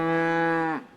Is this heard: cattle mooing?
yes